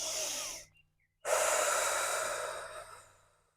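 A long audible exhale during a yoga forward fold, a breathy rush that fades out, then a short silence, then a second strong breath out that slowly tails off, close and alone.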